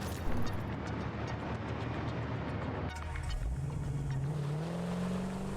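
A car in the video game Satisfactory drives off, a steady engine drone that rises in pitch as it accelerates, loud and alone.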